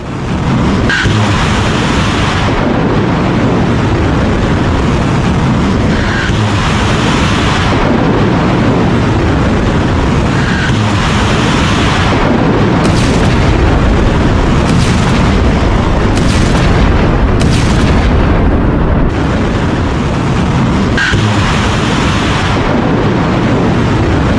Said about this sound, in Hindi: गरजती हुई मिसाइलें ईरान में घुसकर अमेरिका ने इस ऑपरेशन को अंजाम दिया है।